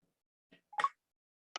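A phone scans a WayAround NFC WayTag on a button label, giving a short soft blip, then a brief, louder beep-like tone, with a faint click near the end; quiet and isolated, no talking.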